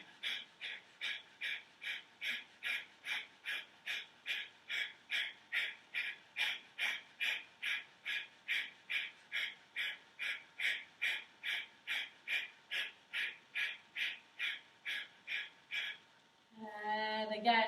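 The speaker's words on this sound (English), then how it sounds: "Sharp exhale, keep those abdomen contract and begin." Sharp, forceful nasal exhales in rapid yoga breathing, a steady rhythmic series of about thirty close puffs at an even pace, ending with a short burst of other sound.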